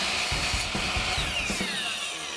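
A power saw cuts white trim molding for framing pegboard, a brief close burst of rough, rasping cutting with a few rhythmic pulses, loud and alone.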